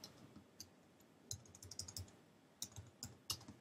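Quiet typing on a computer keyboard while entering cells in an Excel spreadsheet: irregular light key clicks in short bursts over a faint background hush, with no speech.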